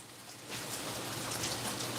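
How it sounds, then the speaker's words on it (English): Hail patters densely against the outside of a window during a Los Angeles hailstorm, a steady, hissing rattle of small impacts that swells slightly after the first half second. "Oh man, it's not fucking rain, it's hail."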